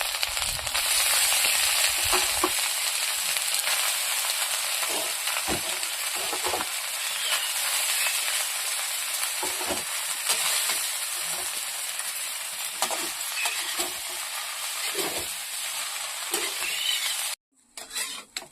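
Chillies and vegetables fry in a pan with a steady, loud sizzle and occasional stirring scrapes, continuous for nearly the whole stretch before a brief drop near the end.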